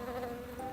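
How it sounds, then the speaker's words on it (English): A huge bee flies past, a brief steady buzzing drone with a faint rising and falling hum, fairly close and alone without any voices. "It's a huge bee."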